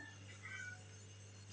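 A kitten gives a single faint, high meow over a steady low hum and background noise.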